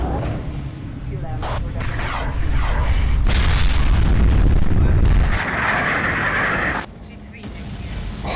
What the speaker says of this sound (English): really good WMD from our opponent. They annihilate 3 of our units there.